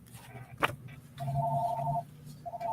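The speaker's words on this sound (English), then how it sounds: "We're going to ignore that phone call." Telephone ringing indoors, a sharp click followed by steady electronic ring tones, one long ring and the start of another, moderately loud and nearby with no talk over it.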